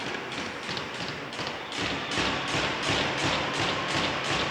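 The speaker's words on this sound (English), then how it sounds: "The sticks banging against the boards." Hockey sticks bang against the rink boards from the bench during a high school girls' ice hockey game, a run of rhythmic rapid knocks that gets louder and more insistent partway through, with arena noise behind.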